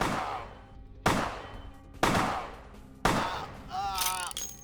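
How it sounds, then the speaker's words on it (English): Gunshots from a firearm in Vampire: The Masquerade, fired in the open world: three sharp, loud reports about a second apart, each ringing off, then a fourth shot followed by a warbling electronic whine. "I'm shooting here"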